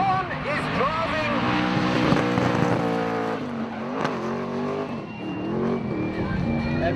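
Drift cars in a drifting competition roar past with high-revving engines and screeching tyres, a loud continuous wail that rises and falls over several seconds, with a commentator talking over the top.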